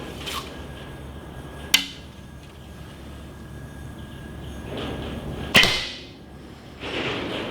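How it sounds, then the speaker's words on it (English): Arrows shot from a longbow, one striking another arrow: two sharp, bright impacts a few seconds apart over a steady outdoor hiss, each followed by a brief rustle. "That was the arrow hitting the arrow."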